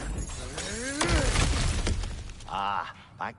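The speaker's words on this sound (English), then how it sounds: "back to smashing through things for fun and profit" Breakable objects smash and shatter in God of War Ragnarok, a burst of crashing and breaking debris with clattering pieces, loud and close, alongside voices and game effects.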